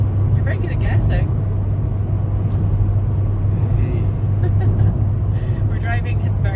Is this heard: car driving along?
yes